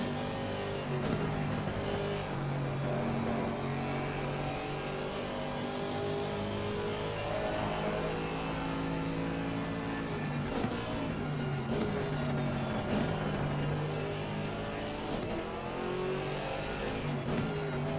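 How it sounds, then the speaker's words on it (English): A Mercedes AMG GT4 race car engine roars in the Assetto Corsa Competizione racing game, loud and continuous, revving through rising and falling gear changes with brief tyre noise over nearly twenty seconds, no voices heard. "Gotta love that Mercedes AMG engine though, absolutely roaring."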